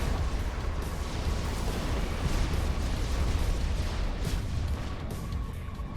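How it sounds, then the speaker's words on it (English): Continuous rumbling barrage of artillery fire and explosions in the real-time strategy game Supreme Commander 2, a dense, loud low roar with overlapping booms throughout and no distinct pauses. "There's something shooting artillery from over here."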